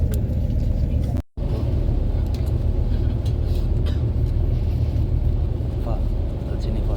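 Steady low rumble of a bus travelling from Mecca to Medina, heard from inside the cabin, a continuous engine and road drone that runs throughout with only a momentary dropout, with faint voices in the background.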